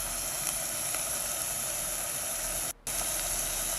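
Onions sizzle steadily in a hot pan, a continuous bright hiss that holds at even strength, broken by one brief drop to near silence before the frying noise resumes.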